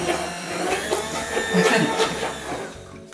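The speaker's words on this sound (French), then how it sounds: "On va partir, on reprend le petit mixeur." A small blender purées broccoli florets with a continuous motor whir and grinding, rising and falling as the contents churn, with brief voices in the background.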